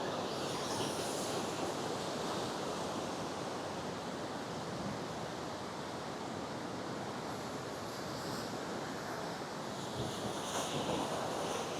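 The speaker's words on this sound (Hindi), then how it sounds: "ही अलकनंदा नदी आहे, हिचा फ्लो बघा." The Alaknanda river flows steadily near the confluence at Vishnuprayag, a constant broad rushing roar of water that stays loud and even throughout, with some wind buffeting the microphone.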